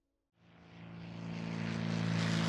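A propeller airplane engine rises out of silence into a steady, droning roar that swells and grows louder, with a strong low hum and a broad airy wash, evoking Amelia Earhart's aircraft in flight.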